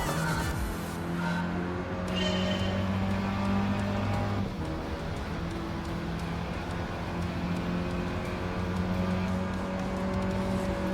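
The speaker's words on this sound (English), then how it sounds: "Why am I racing with a Mini Cooper?" A Mini Cooper's engine drones and revs steadily during a race in Gran Turismo 7, with gear changes and a brief skid, loud and continuous throughout and without speech over it.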